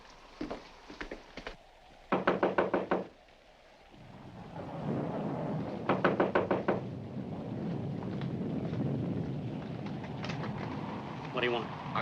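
Sharp rapping knocks on a front door come in quick groups of four or five, repeated several times against a steady roar of storm wind and rain, with voices speaking at points between them.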